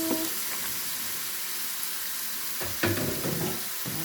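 Chopped carrot sizzles in a hot frying pan, a steady loud hiss throughout, with a few scraping stirs of a spoon near the end.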